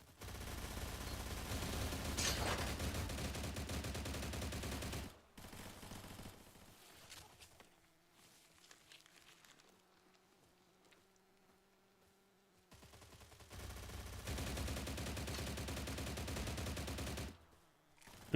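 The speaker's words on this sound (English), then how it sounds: "This gun is so bad at range." Gunfire from a gun in the video game STALCRAFT: a dense, loud stretch of rapid shots, then a quieter lull with low hum, then another sustained burst before it cuts off.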